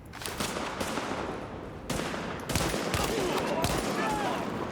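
Rapid bursts of gunfire from blind firing in a shooter game crackle in dense clusters, with sharp transients over a busy background and some faint voice underneath.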